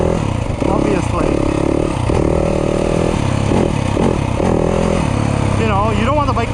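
A Yamaha YZ250F dirt bike fitted with a Rekluse auto clutch revs and rises and falls in pitch through repeated throttle bursts while riding in the woods, the engine loud and close, with a rider talking over it.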